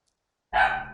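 A single sharp dog bark in the video game The Forest, sudden after silence, close and loud, alone with no talking.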